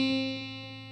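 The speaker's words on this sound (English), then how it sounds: "and then we hit down on the 1st fret with our 1st finger on the B string." A guitar note fretted at the first fret of the B string, plucked once and left to ring, a clean sustained tone fading gently over about a second.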